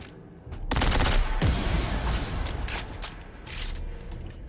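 Galvanizer weapon in Dead Space 3 firing rapidly, heard as a fast volley of crackling, booming gunfire bursts with metallic mechanical creaks, loud and close, with no talking.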